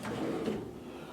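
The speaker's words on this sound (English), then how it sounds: "Down here is a massive drawer." A large drawer in a hotel room at the Mercure Koblenz slides open in a single short, soft scraping movement, heard close by and alone.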